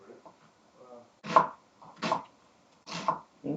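Onions being chopped with a knife on a cutting board while making meatball and dumpling soup, heard as a few firm, evenly spaced chops close by with quiet gaps between them.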